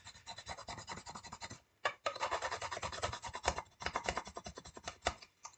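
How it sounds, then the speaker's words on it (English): Close, rapid rubbing strokes as hot wax is worked into a dyed, heat-formed leather bowl to burnish its top surfaces, a dense scratchy rhythm with one brief pause. "you can rub and slick into that hot wax, which will just smooth out and give you a nice burnish on those top surfaces"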